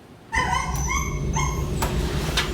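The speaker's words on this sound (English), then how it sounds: "here's one of those huskies" A husky, one of a group of malnourished, abandoned dogs in a shelter, gives loud close barks mixed with high whimpering yips, repeated in a rapid, insistent series.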